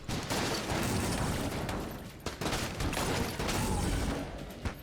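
Dense gunfire from a mass shotgun and machine fist in Enter the Gungeon, a loud continuous barrage of rapid blasts and clattering impacts with brief dips, no voices.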